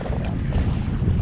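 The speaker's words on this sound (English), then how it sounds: "we're just sort of spinning around in the wind here" Steady wind buffets the microphone while drifting on a Yamaha FXHO Waverunner, a continuous low rumble with faint water wash and no voices.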